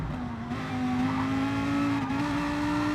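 Lamborghini race car engine in a racing video game, a steady loud drone held high through the gears, continuous and close, with no talk over it.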